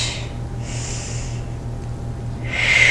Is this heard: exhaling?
yes